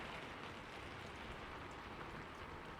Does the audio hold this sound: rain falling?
yes